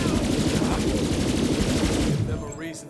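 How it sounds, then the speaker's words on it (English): Rapid, dense crackling and popping bursts from fireworks set off by Devil Riders in the video game Borderlands 3, Bounty of Blood DLC, loud and continuous before tapering off near the end. "Those Devil Riders are celebrating the Sheriff's death with damn fireworks."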